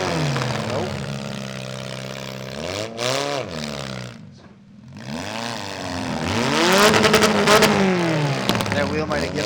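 Damaged number 7 car at a youth mini demolition derby revs its engine in loud, rising and falling surges, dipping briefly before climbing hard again, with voices faintly present.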